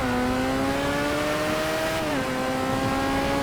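A car driving in GTA V: a steady, loud engine drone with a sustained tone that dips briefly as if shifting or easing off, then holds on, with no talk over it.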